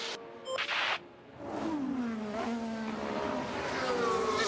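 Formula 1 car engine in F1 Manager, a rising then falling whine with a brief louder rev early on, then a steady mid-level tone sweeping in pitch, no talk.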